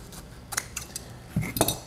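Scissors cut straight across a ribbon for a Christmas mailbox decoration, giving a few short, crisp metallic snips spaced apart, with a louder pair near the end.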